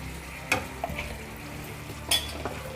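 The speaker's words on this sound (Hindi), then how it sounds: "और हल्के हल्के हाथ से इसे ग्रेवी के अंदर मिक्स करेंगे, जिससे कि जो हमारे फूल हैं गोभी के वो टूटे नहीं" Shallow-fried cauliflower florets gently stirred into gravy in a pan over a low flame, with a soft background sizzle and a few distinct scraping stirs close by, no talking.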